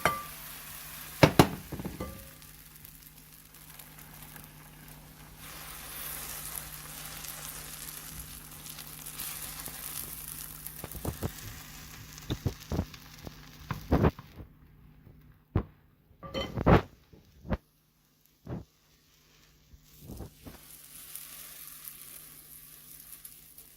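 Quesadilla vegetable mixture cooking in a hot pan and being spread into a circle with the back of a spoon, a steady sizzle running under sharp clinks and scrapes of the spoon against the pan.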